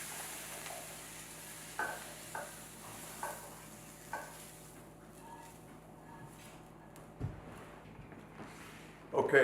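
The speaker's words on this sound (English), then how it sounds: "The mushrooms are glazing up real nice, the peppers." Mushrooms and peppers sizzle steadily in a frying pan, a broad low hiss running throughout with a few soft stirring clicks and scrapes, and a louder clatter near the end.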